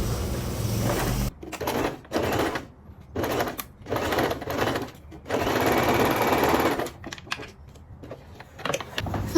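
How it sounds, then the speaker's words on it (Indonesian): A sewing machine stitches a back dart on men's trousers in several bursts of rapid whirring, some short and one longer run, with brief quiet pauses between them. "Lalu kita jahit di sini."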